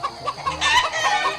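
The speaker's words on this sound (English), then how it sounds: "if you want to hear what chickens sound like," Backyard chickens clucking and murmuring close by, a steady run of short, throaty clucks with a faint crow mixed in.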